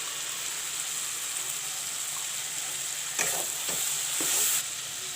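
Onions with turmeric and freshly ground masala fry in a pan, giving a steady hiss. Brief stirring scrapes come through near the end.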